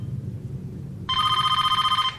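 Telephone ringing with a fast, steady electronic trill that starts midway and continues loud and close over a low background hum.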